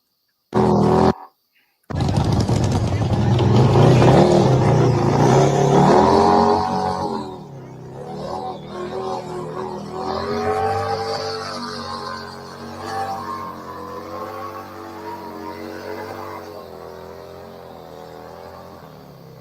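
A motor trike with cut rear tires starts up and revs loudly up close, a rough roaring engine that drops back to a lower, wavering idle and settles into a steady rumble.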